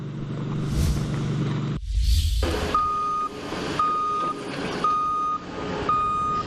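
Construction vehicles work on a building site for off-campus student housing, with a truck's reversing alarm beeping four times at a regular pace after clanks and an air-brake hiss, heard fairly close.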